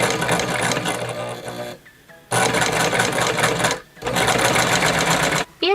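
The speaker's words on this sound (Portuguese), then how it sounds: "vou pisar lá no pedal, tá? E vou costurar normalmente" Elgin Zig Zag sewing machine running steadily while stitching with a twin needle, a loud continuous mechanical whir in three bursts separated by brief pauses.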